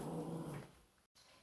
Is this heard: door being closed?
no